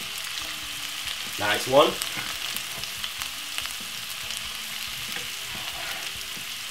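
A medium white onion and two stalks of spring onion, freshly chopped, hiss and sizzle steadily in a hot pot, with a brief louder burst and a short spoken remark over the frying.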